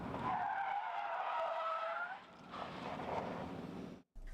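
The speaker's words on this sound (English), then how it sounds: "That is what a PIT maneuver looks like with one police vehicle and one suspect vehicle" A police car's PIT maneuver spins out a suspect vehicle, tires squealing and skidding loudly for a couple of seconds, then a rougher scrubbing slide that cuts off abruptly.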